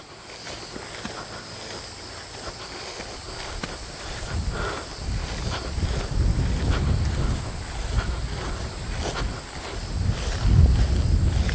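A gust of wind sweeps across a hiking trail in the Alafia Corridor, building from a quiet start into a loud, buffeting roar that swells and dips, with scattered rustling and crunching close by.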